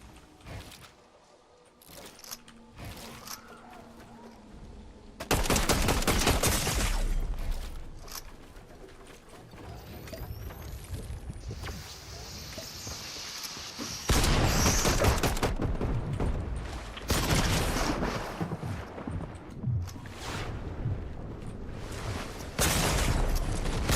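Loud bursts of gunfire in Fortnite erupt in several dense volleys after a quieter opening, each lasting a few seconds, close and harsh, with faint game sounds between them.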